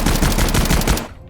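A German light machine gun fires in a rapid sustained burst of sharp, loud, evenly spaced reports, close and dense, cutting off abruptly after about a second with a brief decaying echo.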